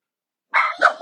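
A couple of dogs let out a quick burst of short, close barks and yips after a moment of silence, loud and overlapping, with no talking.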